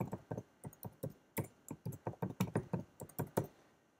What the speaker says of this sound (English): type the password